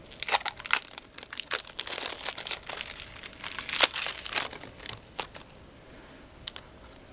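Plastic wrap crinkles and tears as packs of dragon cards from the Wyrmspan board game are pulled open, giving close, crisp bursts of crackling with short pauses that thin out toward the end.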